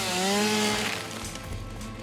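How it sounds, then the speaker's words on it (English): A chainsaw in a factory-building video game runs on biofuel and cuts wood, giving a steady, close buzzing whine that shifts pitch slightly as it works, with no talk over it. "Now we can run the chainsaw."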